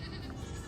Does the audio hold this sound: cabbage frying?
no